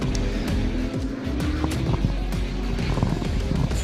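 Race cars at Killarney Raceway head out on a reconnaissance lap, engines droning and revving nearby with brief tire squeals in a continuous busy mix.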